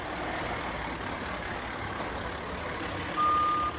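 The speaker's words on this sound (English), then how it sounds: "First off, the trucks drive out." Champlin Public Works trucks drive out onto an outdoor hockey rink to spread water for ice, a steady engine rumble with a reversing beep near the end, no talk.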